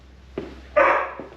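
A dog giving a short gruff bark, then a louder drawn-out bark-whine close by, in a quiet room.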